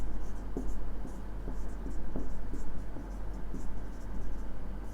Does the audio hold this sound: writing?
yes